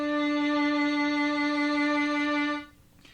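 A single sustained D note bowed on a violin in third position with the second finger down, held steady and clear for a couple of seconds before cutting off into quiet room noise.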